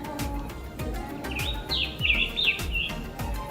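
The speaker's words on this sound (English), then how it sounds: "We have scarlet tanagers visiting." A scarlet tanager sings a short, burry phrase of warbled notes in the middle of the clip, moderately distant, over a backdrop of soft, regularly repeating low thumps.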